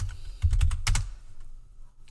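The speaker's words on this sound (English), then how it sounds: "I keep typing the whole word out." A few quick keystrokes on a computer keyboard, a short burst of close clicks followed by a pause and one more tap at the end.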